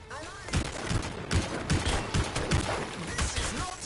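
Rapid gunfire crackles through a firefight in the video game Anthem, with bursts of shots clustered across the scene amid faint voices.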